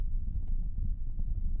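Horse hooves clopping on rock in a narrow canyon, a quick irregular series of close, heavy thuds over a low rumble, with no talking.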